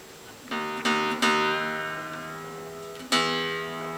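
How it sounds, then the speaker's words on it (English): Acoustic guitar strings are plucked one at a time during tuning by the fifth fret method, four ringing notes that sustain and slowly decay, with no voices. "So when you pluck the next string"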